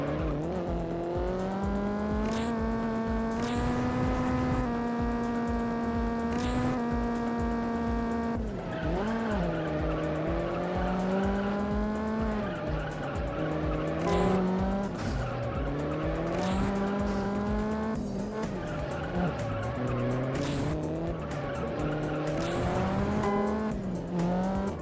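Race car laps in the Juiced video game: a loud engine whines up and down through gear changes, with repeated tire squeals and skids through corners, continuous and close.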